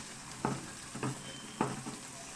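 Semolina roasts in desi ghee for malai halwa, giving a soft, steady sizzle broken by three quiet scraping stirs of the spoon, close and calm, with no talk.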